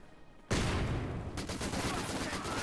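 An ISG infantry gun fires in Company of Heroes 2, starting with a sudden loud blast and followed by sustained battle noise with further sharp reports.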